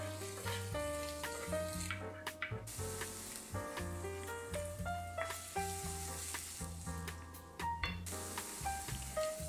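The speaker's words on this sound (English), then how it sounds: "we're going to saute our onions until they are translucent" Onions sauté in a pan for a stuffed beef tenderloin roll, a steady quiet sizzle with occasional stirring, half-masked by melodic background music.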